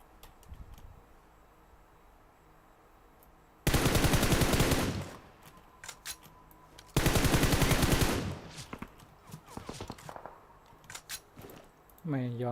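Two long bursts of rapid automatic gunfire in PUBG Mobile, loud and sustained for about a second each, with scattered single shots and clicks between and after.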